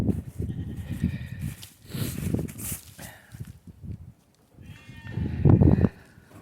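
Lambs on a farm bleat in repeated loud, close calls, with quieter pauses, scuffling hooves and movement between the bursts.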